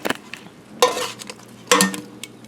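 Chicken wings being flipped while cooking, two sharp bursts of sizzling and scraping about a second apart, with light clinks of a utensil in between.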